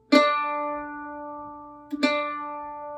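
A viola's D string is bowed, sounding a single sustained low note twice, each stroke starting with a soft scrape and ringing evenly, close and alone.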